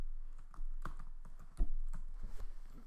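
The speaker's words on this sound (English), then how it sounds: "I'll type in the username and password" Keystrokes on a computer keyboard while entering a username and password, a short run of irregular clicky taps, fairly close and clear with no talk.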